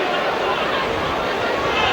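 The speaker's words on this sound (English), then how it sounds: "And now we're beginning to hear the Tottenham crowd." The Tottenham crowd fills a football stadium during a 1988/89 match against Charlton Athletic, a dense, steady roar of chatter and noise heard from a distance with no single voice standing out.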